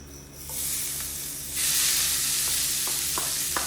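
Garlic and onion sizzle and fry in a hot pan, a steady close hiss that swells louder partway through, with a few light clicks of stirring and no talking.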